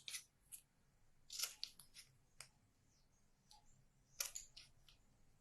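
Scissors snip out paper words for a handmade card, giving a few short crisp cuts in small clusters, close and fairly quiet with pauses between.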